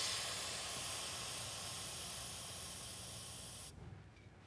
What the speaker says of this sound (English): What you want to do is bleed this down to about 10 pounds right here with this little bleeder.